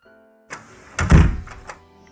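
A house door swinging shut: a soft creak and rattle followed by a single dull, heavy thunk up close, then a brief clatter as it settles.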